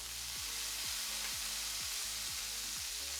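Spices and chopped ginger sizzle in hot oil for a moong dal kachori filling, a constant broadband frying hiss broken by regular dull knocks of a spoon stirring against the pan, about twice a second.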